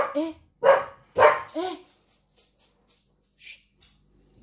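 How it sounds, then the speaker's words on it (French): A dog barks several times in short loud bursts at passers-by in the street, then quieter yips and faint sounds follow, with a few brief clicks near the end. "mon chien aboie sur les passants dans la rue"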